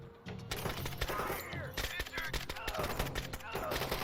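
A tactical squad in the video game Door Kickers 2 opens fire, with sharp, closely spaced gunshots and short automatic bursts crackling loudly across four seconds, with other game sounds mixed in.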